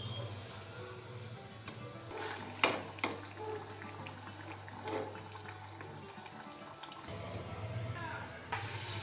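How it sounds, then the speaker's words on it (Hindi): Bread pakoras frying in hot oil, a steady bubbling sizzle running throughout with a low hum beneath and a few sharper clatters and pops near the start. "इसी प्रकार से सब ब्रेड पकौड़ा ला डाल के हमन बारी बारी से तल लेबो।"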